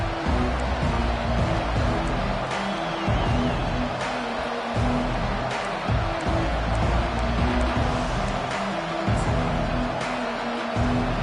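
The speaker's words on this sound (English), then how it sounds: "This crowd trying to show them what it's going to be like all day in this house." A loud, continuous roar from a packed football stadium crowd during a kickoff, swelling and surging throughout with a broadcast commentator talking over it.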